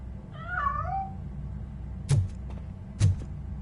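A cat in RoboCop Rogue City gives a single wavering meow near the start, followed by two sharp thuds or clicks over a low game ambience.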